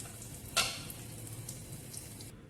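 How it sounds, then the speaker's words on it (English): Mustard and cumin seeds, with hing, urad and chana dals, curry leaves and dry red chilli, sizzle steadily in hot oil for a potato curry, with one sharp spluttering pop near the start. "Once the seeds splutter"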